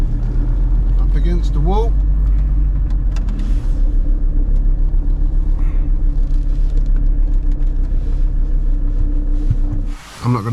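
VW T4 campervan engine idling and creeping while parking at night beside a graveyard: a steady, close, low diesel rumble throughout, with someone talking briefly over it near the start and a short dip in the sound near the end.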